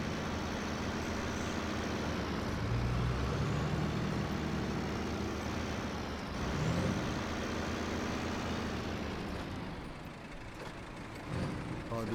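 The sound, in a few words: truck with large trailer driving in SnowRunner video game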